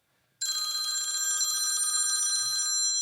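A telephone bell rings loud and close, a steady metallic trill that starts abruptly and sustains for over two seconds before cutting off, with faint background rustle.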